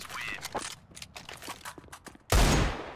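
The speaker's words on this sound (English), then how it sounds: "Davkos with the P90" P90 submachine gun fire in Counter-Strike on the Nuke map: a loud, dense burst of automatic shots near the end, following quieter scattered in-game clicks and footsteps.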